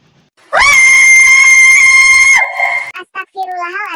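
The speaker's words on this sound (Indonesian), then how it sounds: "Spontan Mbak Leni berteriak sekencang-kencangnya saat melihat apa yang terjadi di dalam kamar Neng Sheila" A woman screams loudly in fright, one long sustained shriek lasting nearly two seconds in a tense horror scene, followed by shorter broken cries and a trailing wavering wail.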